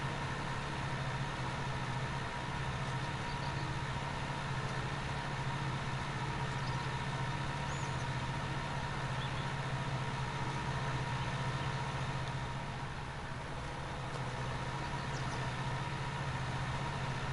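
A tractor engine runs at a steady idle-like drone while working a field during cultivation in Bucks County, Pennsylvania, a constant low rumble with no breaks and no talk.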